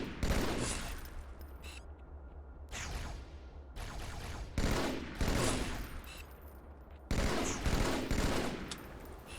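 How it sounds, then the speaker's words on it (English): Beam rifle fire in the Halo 2 video game crackles in loud, sharp bursts, a handful of shots separated by brief pauses over a steady background din. "I'm hearing beam rifles."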